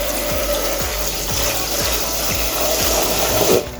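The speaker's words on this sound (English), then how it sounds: "So I'm gonna wash them." Raspberries being washed under a running kitchen tap, a steady rushing stream of water with soft rhythmic knocks and rubbing as the berries are handled, continuous and close.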